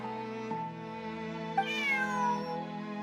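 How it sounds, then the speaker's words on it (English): Bonnie, a video game cat, gives a drawn-out, tonal meow that rises and then falls, close and clear over a sustained musical background. "Bonnie is Pierre's cat."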